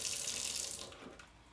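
A kitchen tap runs, gushing water steadily at close range and then easing to a softer trickle as the flow changes, with no one speaking.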